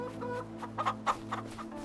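Chickens in a small coop on a farm in Farming Simulator 25 give a few short, soft clucks over a steady low game hum.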